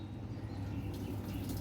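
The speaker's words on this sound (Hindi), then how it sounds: "ये पानी अंदर लेना शुरू करेगा।" A Samsung washing machine taking in water, a soft steady flow of water running into the drum, faint and low with a slight hiss.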